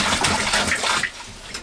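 Cold water gushes steadily into a home-brew fermenter during extract brewing of an IPA, a continuous close splashing rush that thins out toward the end.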